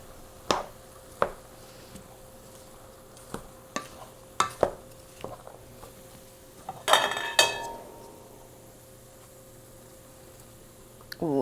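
Cilantro is mixed into a Cape Verdean shrimp and rice dish, with scattered scraping taps of a utensil against the pan and a soft sizzle beneath, a few sharper clatters midway.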